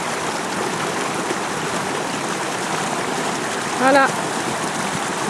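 Floodwater flowing continuously after days of flooding, a steady broadband rushing and trickling wash that stays even throughout, with a short spoken word near the end.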